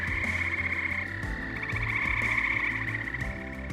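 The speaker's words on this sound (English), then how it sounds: "See a lot of the amphibians come alive and hear them at night." Frogs croaking at night: a dense, continuous chorus of overlapping trills and rhythmic croaks, steady and moderately loud with no voices.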